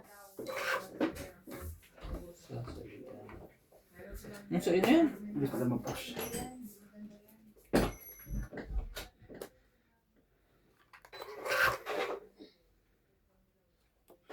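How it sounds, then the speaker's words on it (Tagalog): A wooden door or drawer is pushed shut indoors during a tongits card game, making a few short thuds and scrapes mixed in with frequent nearby chatter. "Pasara nga ng pinto."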